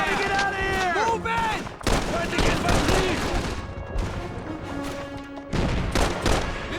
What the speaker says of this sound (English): I'm taking a lot of fire over here!